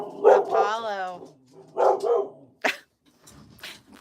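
A dog named Apollo barks and yips nearby in a few short bursts, mixed with a person talking over and between the barks in a home setting.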